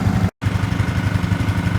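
A John Deere 3025e compact tractor engine idling low, with a steady, close, pulsing diesel chug broken by a split-second dropout.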